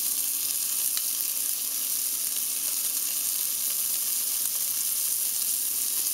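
Beef strip steak sizzles steadily in a hot pan, its edge searing in a constant, even crackle of frying fat with no voices.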